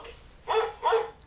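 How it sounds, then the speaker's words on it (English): A dog gives two short, close barks or yelps, half a second apart, against a quiet background. "The dog howls at the moon."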